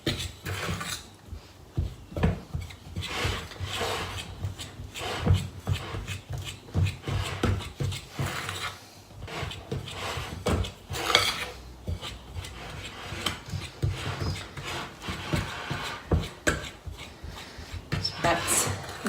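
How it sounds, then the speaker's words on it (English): A fork scrapes and mashes butter into flour and salt in a bowl for banana bread, making repeated close scraping clicks and rubs at an uneven rhythm, with a little speech alongside. "just use a fork to mash it in together"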